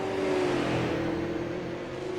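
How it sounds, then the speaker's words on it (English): Chevrolet stock car engine at Nashville Fairgrounds Speedway, revving high in a steady, loud drone with a sustained tonal whine and a faint fade near the end, no voices. "get that motor revving up as high as you can to try to get something"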